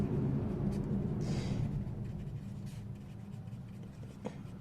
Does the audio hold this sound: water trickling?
no